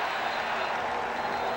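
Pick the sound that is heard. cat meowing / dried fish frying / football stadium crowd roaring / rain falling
football stadium crowd roaring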